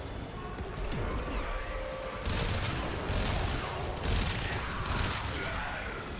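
Rapid shotgun fire in the sci-fi shooter Warframe, several loud crashing blasts in quick succession over busy game noise and effects.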